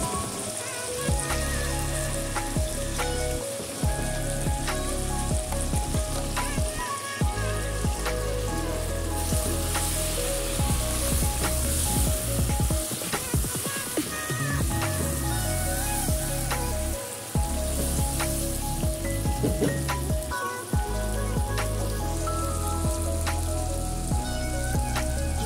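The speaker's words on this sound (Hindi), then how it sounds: "मसाला डालने के बाद भी हम इसको अच्छे से भूनेंगे।" Chicken frying in hot oil with masala for nihari, a loud, steady sizzle and crackle that runs throughout with occasional stirring.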